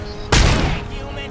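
A loud burst of gunfire erupts in the RoboCop Rogue City video game, a sharp broadband blast that rings out and decays over about a second, over a steady background hum.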